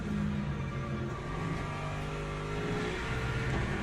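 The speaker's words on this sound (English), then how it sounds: "Rev it to the max." Race car engine in the Le Mans Ultimate sim game held at high revs, a dense steady roar with layered harmonic whine running unbroken and fairly loud throughout, no talking.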